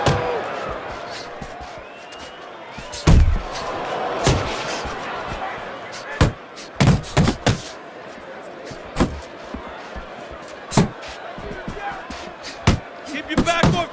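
Punches thud and slap in the boxing video game Fight Night Champion, a series of sharp impacts landing in irregular bursts, some doubled in quick succession, over a steady arena crowd murmur with a commentator talking.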